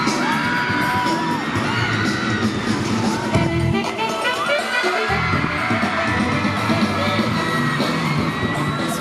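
Thai students scream and cheer at a K-pop style concert, a loud and dense mix of high-pitched shrieks and crowd noise with sharp bangs in it that goes on without a break.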